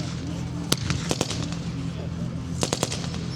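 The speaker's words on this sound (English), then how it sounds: "Tanks are opening up." Tanks firing their guns during an outdoor battle reenactment: scattered sharp bangs and short bursts of rapid reports against a steady rumbling background, with a voice talking over the noise.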